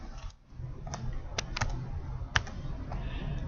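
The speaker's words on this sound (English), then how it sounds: "If I just start typing stuff, unpredictable things are going to happen." Typing on a computer keyboard, a handful of sharp key clicks spaced unevenly, some in quick pairs, over a steady low room hum.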